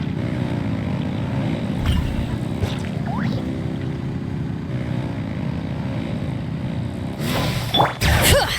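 Engines rev in a Genshin Impact scene, a sustained loud mechanical drone with low rumble running the whole time, rising with brief whooshing swells and a couple of sharp bursts near the end.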